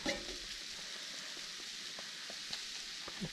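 Kohlrabi hashbrowns softening in a pan on a stovetop, giving a faint, steady sizzle with a few soft clicks and stirring taps, with no one talking.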